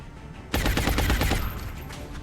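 A soldier's rapid burst of automatic gunfire in XCOM: Enemy Within, Long War mod, six or seven close, loud shots in quick succession, then a fading echo.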